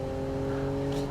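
Steady engine drone from a long-tail hypermiler car driving in BeamNG, a smooth constant hum with stable tones and a brief brighter hiss near the end, no talking.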